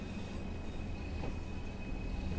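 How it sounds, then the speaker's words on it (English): Train pulling away from a station in the Cardiff City network of a train simulator game, heard as a steady, dense rumble of running wheels and engine with a faint high whine, continuous and unchanging throughout. "Train pulls away,"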